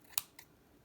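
Scissors snip paper for a handmade gift envelope: one sharp, close cut followed by a softer second snip, with no talking.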